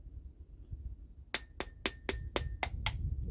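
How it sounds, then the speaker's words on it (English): A motorcycle carburetor on a 2016 Kawasaki KX85 is tapped seven times in quick succession, making sharp, evenly spaced metallic knocks over a low background rumble. "So give the carburetor just a little tap"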